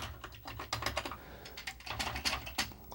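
Function keys on a Commodore 64C keyboard being pressed in a string of close, crisp plastic key clicks, irregular and quick, over a low steady hum, with no talking.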